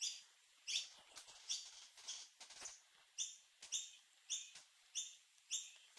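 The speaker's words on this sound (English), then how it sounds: "Be quiet, birds." Faint bird chirps come in irregular bursts at first, then settle into an even series of short, bright calls over a soft background hiss and light clicks. No one talks.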